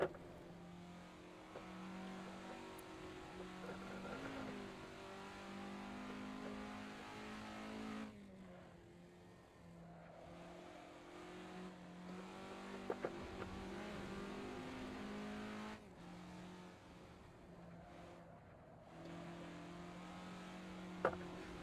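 A 1967 Formula Ford race car engine in Assetto Corsa, a steady buzzing drone that rises and falls with revs and gear changes, fairly quiet, with a few brief sharp clicks.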